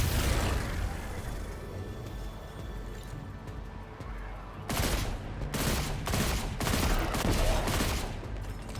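Enemy gunfire in Destiny 2: Lightfall crackles as rapid, dense bursts of shots over a steady game soundscape, growing heavier and more continuous in the second half.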